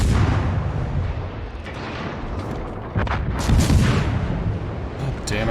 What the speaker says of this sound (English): Concentrate fire on the enemy ship